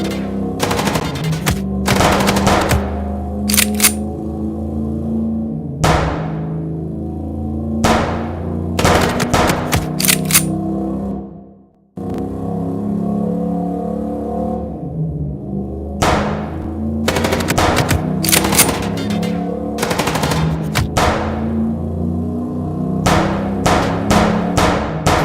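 Repeated bursts of rapid automatic gunfire during a car chase in the video game Chicken Police, loud and close, with a short pause midway.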